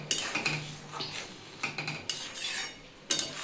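A spoon stirs masoor lentil dal with vegetables in a cooking pot, giving quiet, irregular scrapes and light metallic clinks close by, with a sharper knock near the end.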